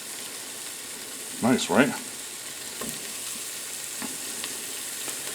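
Meatballs frying in hot olive oil with onions and garlic give a steady, soft sizzle, with a brief burst of louder crackling and stirring near the middle and a short voice speaking over it.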